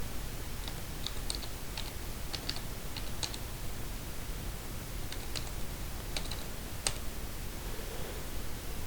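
Keys tapped on a computer keyboard while a password is entered, light irregular clicks in short bursts over a steady background hiss, fairly faint and with no talk.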